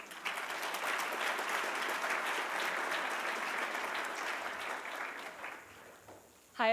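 A large commencement crowd claps steadily for a speaker being welcomed, a dense even applause that swells in quickly, holds for several seconds, then thins out before a voice cuts in at the end.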